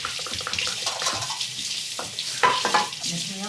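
Tap water runs into a kitchen sink while something is rinsed beneath it, a steady splashing hiss with brief clinks and handling noises, close by.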